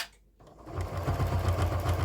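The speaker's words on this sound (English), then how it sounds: "and then we will sew a quarter of an inch there" Sewing machine stitching through several layers of fabric at a quarter-inch seam, a steady, fast mechanical whir that starts after a brief quiet moment and runs continuously up close.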